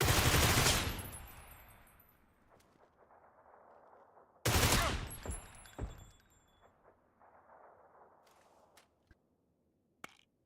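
Gunfire rings out in PUBG, two loud, sharp bursts of shots, each followed by a long decaying echo, with scattered faint clicks and movement noises between them.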